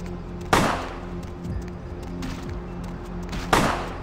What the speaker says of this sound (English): Someone's getting shot.